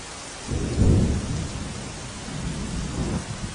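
Steady heavy rainfall pours down over waterlogged streets in Deesa, Gujarat, with a deep rumble of thunder swelling early and fading, close and continuous throughout.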